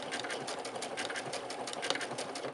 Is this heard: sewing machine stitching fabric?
yes